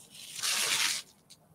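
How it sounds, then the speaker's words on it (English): A plastic bag is pulled from under the sole of a shoe, giving one brief crinkly, tearing rustle of about half a second, close and fairly loud, followed by a faint scrape. "Excuse me just while I remove the plastic bag from underneath my shoe"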